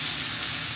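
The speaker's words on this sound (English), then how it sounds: "to our oil, we're adding an onion" Onion sizzles in olive oil in a pan with a loud, dense, continuous hiss and crackle, heard close up with no voices.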